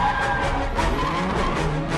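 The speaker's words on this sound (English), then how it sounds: "The car chase in Morocco is kind of mind-blowing." Car tires screech and skid through a chase on the streets of Morocco, a sustained, loud squeal laid over engine roar that holds steady from start to finish, with no voices.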